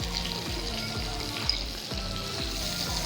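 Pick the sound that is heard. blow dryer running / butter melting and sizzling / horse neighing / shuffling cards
butter melting and sizzling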